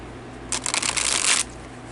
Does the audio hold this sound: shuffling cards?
yes